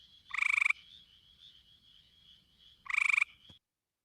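Two short, rapid trilling frog calls, each a pulsed burst under a second long, with a faint steady chorus of distant calling frogs humming between them.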